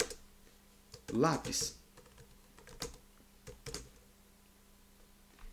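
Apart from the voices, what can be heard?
typing a file name on a computer keyboard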